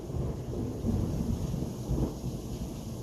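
Thunder rolling low and steady with a rain-like hiss over three seconds, swelling slightly in the middle, with no voices.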